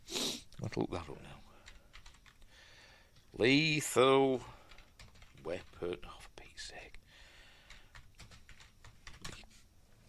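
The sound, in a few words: typing on a computer keyboard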